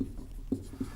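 Chalk writing on a classroom board during a Hindi-language chemistry lesson on solutions, heard as a few short, close scratchy strokes with faint background hum.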